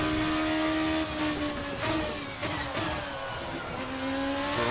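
A Formula RSS 2 open-wheel race car in a racing sim game held at full power, a loud continuous high engine whine with shifting pitch and brief gear-change dips, no voices.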